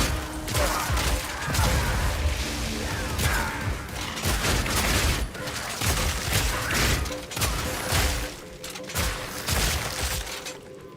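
A shotgun-style bleed skill firing repeatedly in Path of Exile 2, with dense, loud crashing bursts and shattering impacts in an unbroken barrage lasting around eleven seconds, no talk.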